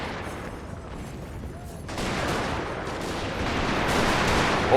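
Musket volley from massed Union infantry in an American Civil War battle in the game Total War, a broad rolling crackle of gunfire that swells partway through and keeps up as a continuous fusillade.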